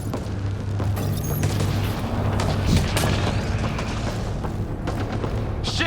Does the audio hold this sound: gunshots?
yes